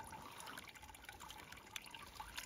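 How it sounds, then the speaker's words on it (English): Water tipped and washed out of a gold pan outdoors, a soft continuous trickle and slosh with small splashes, faint and close. "quietly tip all that water out and wash some off the front"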